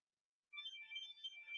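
After a moment of silence, an incoming-call ringtone on the 8x8 Switchboard Pro softphone starts up: a bright electronic trill that plays on steadily and alone.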